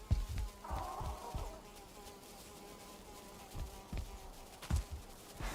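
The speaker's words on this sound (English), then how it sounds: "Where is that stupid mosquito?" A mosquito in the video game Valheim gives off a faint, continuous whining buzz, with occasional soft footsteps and light knocks in the game world.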